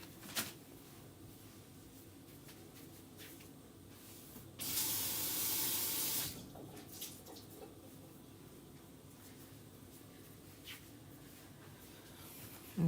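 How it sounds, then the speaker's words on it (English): A chalkboard eraser is wetted under running tap water, a steady hissing stream of about two seconds standing out from quiet handling noises and small clicks before and after. "make sure it's wet, squeeze out the excess water"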